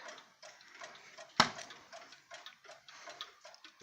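Antique black mantel clocks tick in a steady, fairly quiet rhythm up close, with one sharp louder knock partway through.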